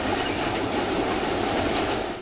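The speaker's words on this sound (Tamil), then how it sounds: "நீலகிரி என்றாலே யுனெஸ்கோ அந்தஸ்து பெற்ற மலை ரயில்தான் அனைவரின் நினைவுக்கு வரும்." Nilgiri mountain railway train running steadily, a continuous close rumble with rolling wheel noise and faint clatter, no voices.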